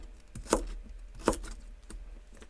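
A knife chops celery into thin sticks on a cutting board, giving two distinct close knocks and a fainter third, spaced unevenly, with no talk.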